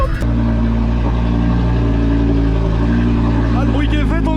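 Nissan TDS car accelerating in first gear, a loud steady close engine drone with a sharp onset, tyre squeals or rising whines near the end, and voices talking over it.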